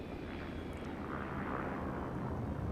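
Spaceship in Elite Dangerous lowering its landing gear, a steady loud broadband engine roar and rumble filling the whole stretch with no distinct mechanical clunk standing out.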